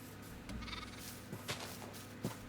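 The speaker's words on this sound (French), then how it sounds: "On a encore des moutons." Minecraft sheep bleat a few times in a hardcore survival game, short synthetic baas over a steady hum of game sound, one near the start and brief cries later on.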